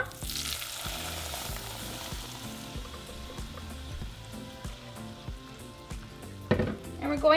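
Salsa sizzling and frying in hot oil in a saucepan, a steady close crackle that runs throughout, with a louder clatter of movement near the end.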